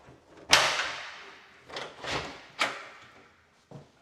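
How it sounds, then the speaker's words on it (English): A house door to the attic space being opened, a sharp latch click and creaking swing followed by several wooden knocks and thuds, close and fairly quiet with no voices. "let's see what's behind this door right here."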